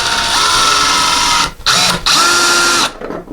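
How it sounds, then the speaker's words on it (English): An electric screwdriver whirs in three short bursts while driving a screw into a wall to mount a coat hook, the motor pitch shifting under load between brief pauses. "We're going to put a second one in using our electric versus hand."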